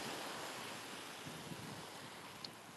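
Ocean waves break on a beach in a soft, continuous wash of surf, fairly faint and even, with a couple of small splashes near the end and no voices.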